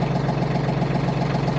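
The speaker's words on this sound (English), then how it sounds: "I hope you can hear me over the tractor. I got the tractor outside now" Branson 2515H tractor engine idling outdoors, a steady low diesel rumble with a constant knocking pulse, continuous and close throughout.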